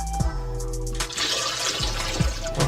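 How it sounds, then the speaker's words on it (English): About eight cups of water poured into a steam sauna heating unit, a loud close rushing pour with gurgling and splashing, broken by a few brief thumps. "I just put about 8 cups of water into the steam heating unit"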